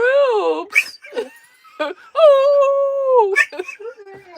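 Ruby the dog howls indoors with long, wavering, pitch-sliding wails, close and loud, broken by short yips, while people chatter and laugh around her.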